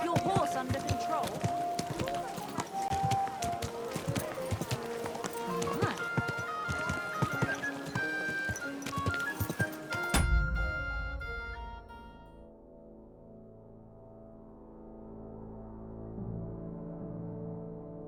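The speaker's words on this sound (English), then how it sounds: "Don't you know how to keep your horse under control?" Hooves of a horse galloping and clip-clopping in Kingdom Come: Deliverance II drum rapidly under game music and a shouting voice for about ten seconds, then give way to a sustained musical tone.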